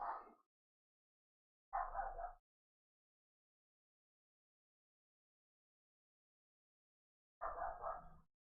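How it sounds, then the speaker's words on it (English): A neighbouring dog barks in three separate short bursts, the first two a couple of seconds apart and the last after a long silence, heard from some distance with dead quiet between them. "It's the dog next door."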